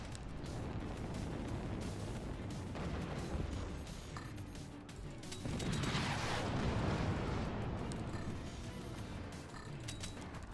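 Weapon shots and impacts from the artillery game Forts, a dense, rumbling stream of booms and crackling blasts with a heavier surge in the middle, steady and fairly loud throughout.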